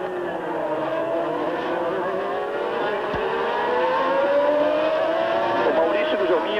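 Formula One cars, including McLaren machines, scream around the circuit at the 1992 South African Grand Prix, a steady high engine whine with pitch sweeping as cars pass, heard under continuous commentary.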